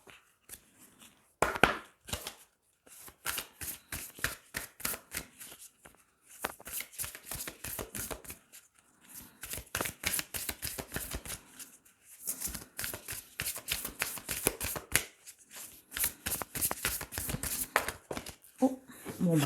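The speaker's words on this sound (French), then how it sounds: "Je vais ramasser tout ça et je vais terminer avec une carte de la lunologie" Oracle cards are gathered up and shuffled by hand in quick rustling, riffling bursts with soft taps, close and fairly quiet, while someone talks intermittently.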